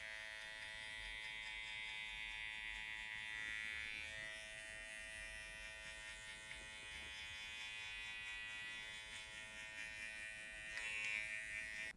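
Electric hair clipper buzzing steadily up close while fading hair during a high fade flat top cut, a continuous tonal drone with slight shifts as the lever and blade move, no talk.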